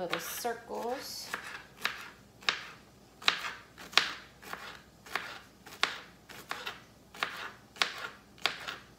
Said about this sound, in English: Just do the jalapeno in little circles.